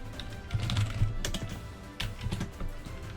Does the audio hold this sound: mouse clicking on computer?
yes